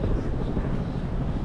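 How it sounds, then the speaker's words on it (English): A chopper flies overhead near a boat on open water, a steady low rotor and engine rumble with wind buffeting, continuous and moderately loud throughout. "Just a chopper flying to its private"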